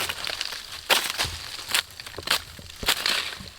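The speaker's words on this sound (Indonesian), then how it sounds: "Hancur batang ini." A nutmeg tree stem being crushed by hand, giving several short, dry crunching snaps at irregular intervals, close and fairly soft, with no talking.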